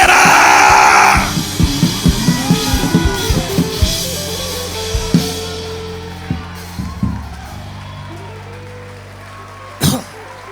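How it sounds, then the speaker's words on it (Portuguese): A church congregation erupts in a loud shout of victory, then scattered yells and whoops fade into calmer crowd murmur with a few isolated cries, one sharp shout near the end. "Alguém dê um brado de vitória glorificando. Oh, grite bem alto"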